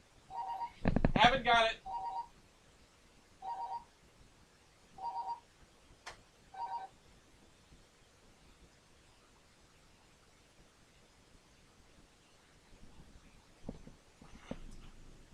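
A landline cordless house phone sitting badly in its charging dock gives several short, evenly spaced electronic beeps, with a brief spoken remark near the start and faint clicks and handling later.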